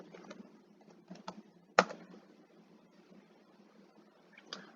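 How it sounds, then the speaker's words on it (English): Someone types a search into a web browser on a computer keyboard, a quiet, steady run of close key taps with one sharper louder press partway through and a few scattered clicks after, no voices. "type Indeed into your web browser search bar"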